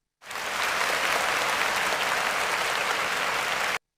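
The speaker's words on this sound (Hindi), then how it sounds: "उस भाषण के बाद सभी लोगों ने जोरदार ताली बजाई।" A crowd applauds after a speech in a Hindi cartoon, a dense, even wash of clapping that starts and stops abruptly and lasts a few seconds. No talking.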